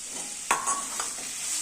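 Chhana bora, fried cottage-cheese dumplings, are dropped into a vegetarian kochur data (taro stem) curry and stirred, with a few sharp spoon-on-pan scrapes and clinks over a soft steady simmering sizzle.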